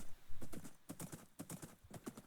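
A horse's hooves in Minecraft clip-clop in a steady rhythm of distinct, fairly quiet knocks, with no talking.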